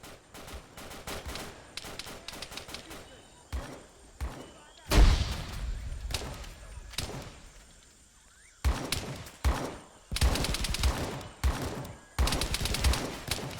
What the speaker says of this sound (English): Guys just taking pot shots a bit past the building